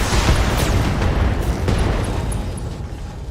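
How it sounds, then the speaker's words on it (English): An enemy vehicle destroyed in the BattleTech video game bursts in a loud explosion, a heavy booming blast with a few sharp cracks, then a rumbling tail that fades. "Enemy vehicle destroyed."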